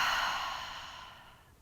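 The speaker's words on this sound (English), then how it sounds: "And an open mouth, audible exhale." A single open-mouthed exhale during a gentle yoga flow, a long breathy sigh that starts loud and close and fades steadily over about a second and a half, with no talking.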